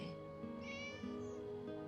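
A black cat meows a few times in quick succession, close and clear, with soft drawn-out cries over a quiet steady background.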